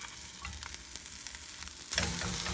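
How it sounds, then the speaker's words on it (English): An egg fries over easy in a hot buttered pan, giving a steady close sizzle with crackling pops, then a louder burst of spitting as it is flipped with a spatula near the end. "Grab my spatula. We're gonna flip this egg."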